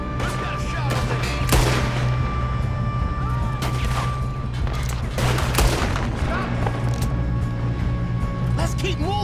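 Rapid gunfire in Red Dead Redemption 2, with sharp shots cracking repeatedly over a constant battle din and game score, and voices talking among the shooting.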